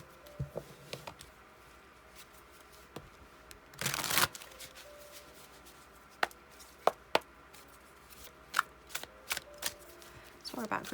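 Tarot cards being handled and shuffled, soft riffling and scattered light card taps, with one brief louder burst of shuffling, quiet and close amid faint background hiss.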